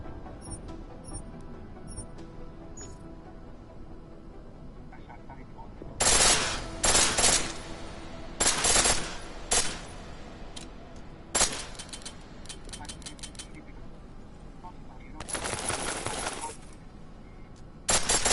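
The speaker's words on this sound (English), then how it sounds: "The pistol in full auto will take down targets fast, but it'll burn through your ammo." Pistol in Deus Ex: Mankind Divided fired on full auto, several loud rapid bursts of gunfire separated by quieter gaps with clinking, over a low background hum.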